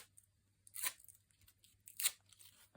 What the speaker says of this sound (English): And this is where I start cutting pieces up.